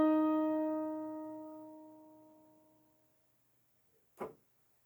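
A single sustained band instrument note at concert E flat rings steadily and slowly fades away over about three seconds, followed by silence and one brief click.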